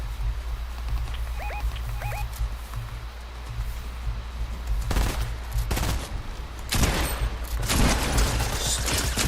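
Gunfire in a Fortnite OG match, a few faint chirps early, then loud irregular bursts of shots arriving in clusters in the latter half over a steady low background hum, no voices.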